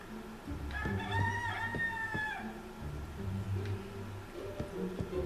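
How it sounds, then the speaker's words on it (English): A rooster crows a long cock-a-doodle-doo early on, followed by clucking chickens and more fowl calls over low rumbling background noise. "Oh, chicken, it is daytime."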